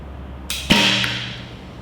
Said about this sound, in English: I know it's hitting because I can hear it hit my arm guard.